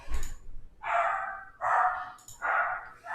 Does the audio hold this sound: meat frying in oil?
no